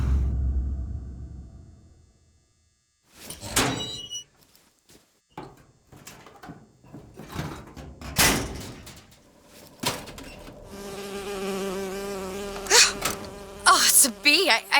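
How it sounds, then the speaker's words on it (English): A bee buzzes in a dramatic film scene, with intermittent close buzzing bursts and fly-bys among clattering thumps and rumbles. A sustained drone builds near the end, and people speak briefly. "Oh, it's a bee."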